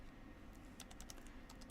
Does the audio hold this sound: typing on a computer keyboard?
yes